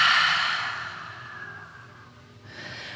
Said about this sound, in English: And one more big open mouth exhale.